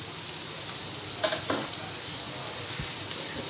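Chopped onions fry in a karahi over medium heat, giving a steady close hiss and sizzle with a few brief stirring scrapes and clinks, and no talking.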